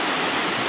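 Ocean surf along the Bondi to Tamarama coastal walk in Sydney makes a loud, steady, broadband roar for a brief moment, with no voices.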